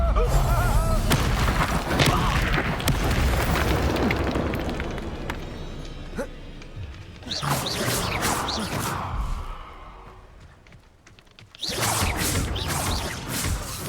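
Spell explosions from Expulso and Confringo in the Hogwarts Legacy video game, heard as several loud booming bursts with whooshing blasts, separated by quieter stretches and ending in a renewed barrage.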